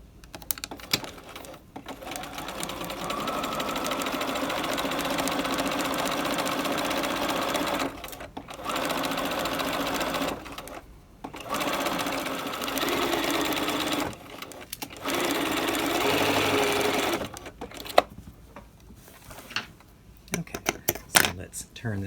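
A sewing machine stay-stitching fabric with blue thread runs in several steady whirring bursts of a few seconds each, separated by short pauses, with light clicks and handling noises between runs.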